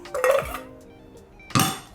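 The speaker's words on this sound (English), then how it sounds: "Drop in a few ice cubes." A few ice cubes dropped into a glass of iced orange coffee, two distinct clinking splashes about a second apart, close and fairly loud.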